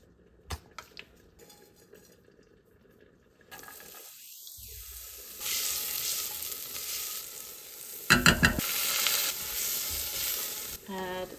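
Oil hitting a hot pot for lentil gravy: quiet handling and clinks, then a swelling sizzle that hisses steadily, with a louder burst of crackling and clatter near the end.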